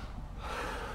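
One deep inhaled breath taken close by, swelling into a louder airy rush midway through, with no talking.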